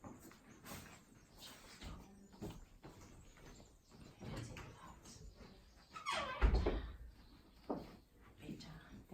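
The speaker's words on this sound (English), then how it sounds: "Let me shut the door." A door of an antique room in a Transylvanian heritage house being pushed shut, a creaking squeak and a dull thud near the end, with people talking throughout.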